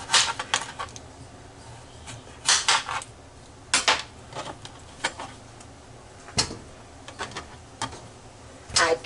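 Knife chopping potatoes on a cutting board, giving sharp, irregular taps and clicks close up, with no talking.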